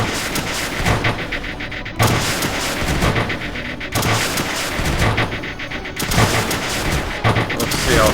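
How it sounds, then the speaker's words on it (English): Launchers in the strategy game Creeper World 2 keep firing at spreading creeper, giving a loud, steady barrage of booming shots. Heavier bursts land about every two seconds over a constant rumble. "Get some launchers in here to take out some of this creeper."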